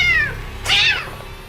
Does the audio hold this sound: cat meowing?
yes